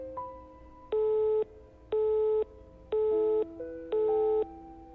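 A phone busy signal sounds as four evenly spaced harsh tone bursts, each about half a second long with pauses between. A faint steady tone and other low background sounds run under it.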